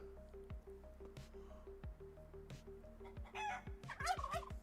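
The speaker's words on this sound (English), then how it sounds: "Yeah, there's a chicken loose." A loose chicken clucks in short, scattered calls over quiet dripping and soft squishy sounds, fairly faint, with a louder squawk near the end.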